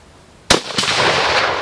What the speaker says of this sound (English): I'm gonna see if I can actually shoot my target here